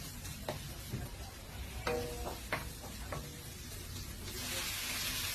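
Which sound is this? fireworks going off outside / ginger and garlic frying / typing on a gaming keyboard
ginger and garlic frying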